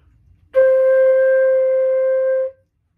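One steady flute tone, a C note, sounds alone, held evenly for about two seconds, then cuts off cleanly.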